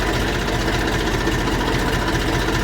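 A tractor engine idling right after starting, a steady close diesel chug with an even low rhythmic knock and no voices.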